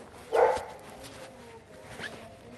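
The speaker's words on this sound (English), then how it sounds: "You can see we've got some dogs there." A single sharp dog bark rings out at a dog park, fairly close, followed by quieter scuffling and a faint yip in the background.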